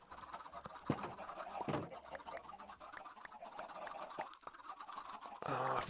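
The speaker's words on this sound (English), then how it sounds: "Oh, chickens." Minecraft chickens cluck softly among quiet game ambience, with several short faint clucks spread across the scene and a brighter rising game sound at the very end.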